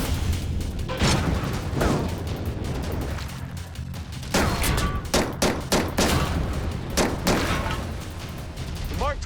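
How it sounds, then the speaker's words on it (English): Suppressed Mark 23 pistol firing a string of sharp shots with uneven gaps, some in quick pairs, fairly close and loud over a steady background rumble. "And I'm gonna fire it with this suppressor."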